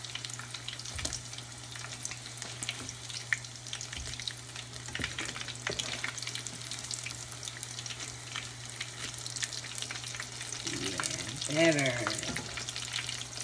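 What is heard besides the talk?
corn fritters popping while frying in oil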